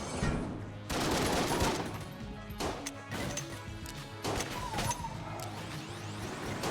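Rapid gunfire from Malediction rounds in the game Enter the Gungeon, a dense barrage of crackling shots with impact whacks running continuously, loud and close throughout.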